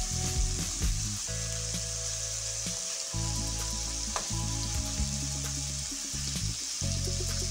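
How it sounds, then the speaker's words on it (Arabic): Vegetables sizzle hard in hot oil in a pan, a loud, busy, continuous frying crackle up close, with occasional stirring scrapes and no voices. "انا كنفضل كنشحروا واحد شويه، كنقلبوا بشويه بشويه"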